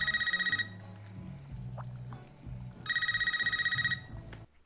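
A landline telephone in the 2022 Scream film rings in two electronic bursts separated by a pause, bright and steady. Faint low talk sits underneath.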